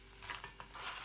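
Harcha dough being flipped and stirred in a pan, giving quick scraping and clinking taps over a soft sizzle, close and alone.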